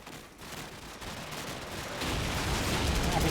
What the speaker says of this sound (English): This red barrel right there that just keeps exploding